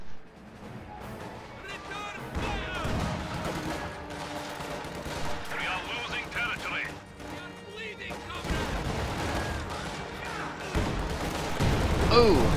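Weapons fire and explosions in a real-time strategy battle between Oberkommando West and Soviet forces, with heavy booming blasts and bursts of gunfire layered over a dense, loud battlefield din, a voice talking throughout.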